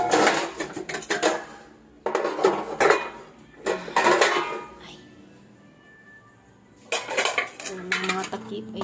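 Pot lids and dishes clatter and clink in bursts while being put away in a home kitchen during a year-end cleanup, with a quieter pause before the rattling resumes.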